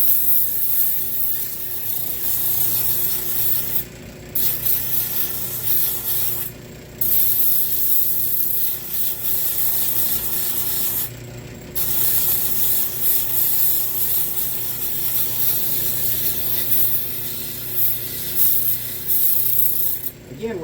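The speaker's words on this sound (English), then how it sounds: "It's a little slow, but it allows me to kind of eyeball it as I sand." Hand sanding on a wooden gun stock, a steady close scratchy rubbing that runs on for long stretches, broken by a few short pauses between strokes.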